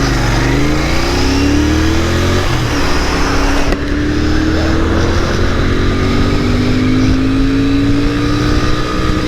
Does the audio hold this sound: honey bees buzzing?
no